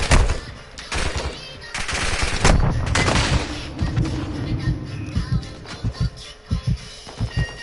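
Gunfire in the shooter Modern Warfare Warzone 2.0: sustained automatic bursts at first, breaking into separate sharp shots and short volleys toward the end, loud and fairly close.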